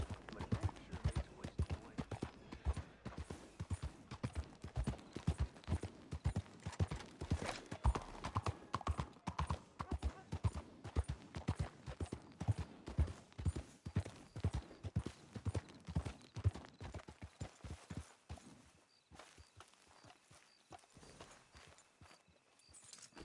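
Horse hooves clip-clopping in Red Dead Redemption 2 during hard riding, a fast steady rhythmic gallop of close, clear hoofbeats that slows and fades near the end.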